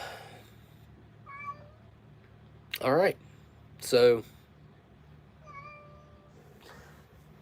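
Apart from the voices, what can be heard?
cat meowing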